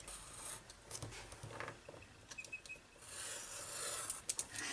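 Scissors cut a piece from a glossy paper battery advertisement, a close, dry rasping rustle of paper being snipped and handled in short uneven strokes, with no voices.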